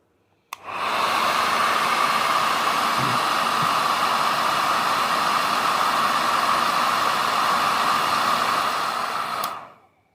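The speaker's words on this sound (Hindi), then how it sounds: "सिर्फ मैंने यहाँ पे हेयर ड्रायर अपना चलाया और इस टेम्परेचर सेंसर पे मारा" A hair dryer blows steadily at close range onto a temperature sensor on an Arduino room temperature indicator, a loud continuous rushing whoosh that switches on abruptly and cuts off after about nine seconds.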